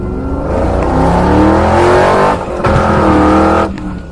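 A car is driven hard and fast, its loud engine roaring up through the revs, briefly dipping at a shift, then surging again before easing off.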